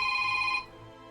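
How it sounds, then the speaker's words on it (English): A phone rings with an incoming call during a game of Pathfinder: Wrath, a steady electronic ringtone tone sounding clearly for about half a second before cutting off, leaving quiet room noise. "Oh, I got a phone call."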